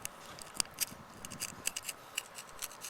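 Crisp snips of scissors or shears cutting a catfish just behind the gills, a dozen or so sharp clicks in an uneven rhythm, close and fairly quiet, with no talking.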